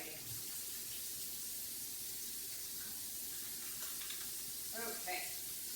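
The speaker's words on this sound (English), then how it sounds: "Let me wash my hands." Tap water runs into a kitchen sink during handwashing, a soft steady hiss with light splashes and a few brief clinks near the end, fairly quiet and with no talk.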